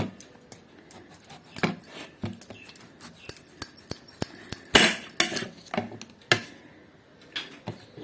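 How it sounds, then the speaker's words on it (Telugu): A knife slices raw green mango into long pieces on a cutting board, sharp irregular clicks and taps close by, with no talking. "చక్కగా ఇట్లా పొడవుగా ముక్కలు కట్ చేసుకోవాలి"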